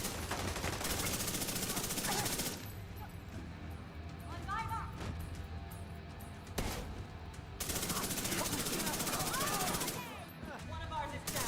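Rapid hostile turret gunfire in The Division 2, dense bursts of automatic shots rattling loudly across the scene, broken by brief lulls, with battle noise and voices mixed underneath.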